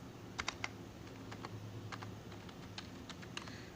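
A phone number is typed on a computer keyboard, a quiet sequence of separate crisp key clicks with uneven spacing and a few sharper presses, no talking.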